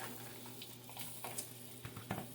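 Mild Italian sausages browning in a pot, with a faint steady sizzle and crackle and a few soft pops and stirring bumps, quiet and continuous throughout.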